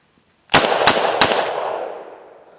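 A Chiappa Rhino .357 Magnum revolver fires three full-power shots in quick succession, each a sharp, loud crack with a booming echo that rolls away over about two seconds.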